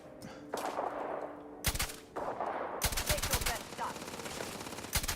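Gunfire in Starfield, played in survival mode: several loud bursts of rapid shots and single cracks, some clustered, with lingering echo and a companion also firing, filling most of the five seconds.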